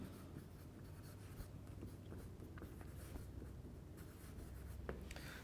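A pen or marker scratches steadily across a writing surface during a chemistry lecture, faint and continuous, with a few louder strokes and no voices.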